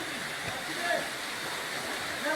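Waterfall in Rishikesh, a constant broad rushing wash of falling water, steady and moderately loud with no clear breaks.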